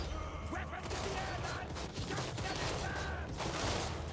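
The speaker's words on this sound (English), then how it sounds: "These Nuln Ironsider guns sound way, way better than the handgunners" Volleys of gunfire from Nuln Ironsider gunners in the fantasy battle game Total War: Warhammer III, a dense rolling fusillade of overlapping shots over constant battlefield din.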